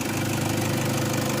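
Engine of a 2013 Toyota Fortuner G TRD Sportivo with automatic transmission idling under an open hood, a steady, loud, close mechanical hum and rumble throughout.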